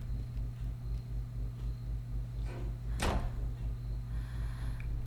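A door opens in the horror game The Park, a single short whoosh-like creak standing out from a quiet, pulsing low ambient hum.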